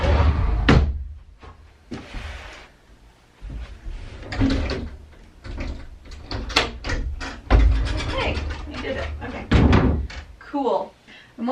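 A household door being pushed shut against bins blocking it, giving repeated knocks, bumps and slams through the clip while a person talks.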